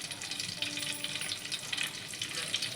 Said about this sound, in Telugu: ఇక్కడైతే చికెన్ కర్రీకి నూనె కాగిపోతుంది